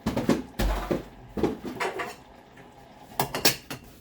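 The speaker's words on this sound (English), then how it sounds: "And I better find the lid" Pots, pans and lids clank and rattle in a home kitchen as someone rummages for a lid, with several loud metallic knocks and scrapes in uneven bursts and short pauses between them.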